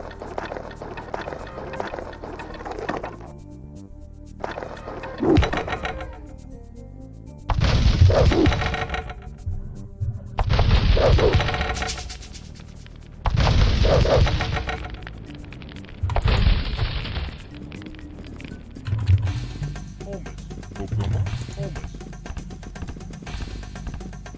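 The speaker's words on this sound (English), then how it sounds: "Since we're just destroying some towers at the moment." Towers crumble in the Age of Empires game, with a series of loud crashing, thudding collapses spaced out over the stretch, separated by quieter gaps.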